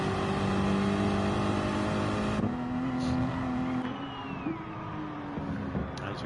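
A race car engine held at high revs in a racing simulator during an endurance race at Le Mans, a steady loud drone with slight pitch shifts as gears change, no voices over it.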